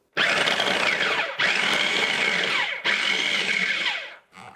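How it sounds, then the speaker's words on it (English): Food processor pulsing chunks of butter into dry ingredients for a strawberry rhubarb pie crust: three loud whirring bursts of blade noise in quick succession, each with a brief dip between, close up with no talk. "Then we'll just throw our butter right here in the food processor."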